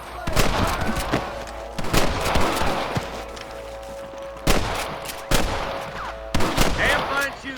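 Loud, close gunfire from a Red Dead Redemption shootout comes in sharp clusters of shots, with brief lulls between volleys and a continuous low hum and ambient noise underneath.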